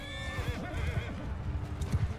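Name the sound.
horses neighing and hooves in video game Bannerlord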